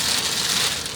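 Steady rain near the Scottish border falls as a dense, even hiss, close and loud with no talking.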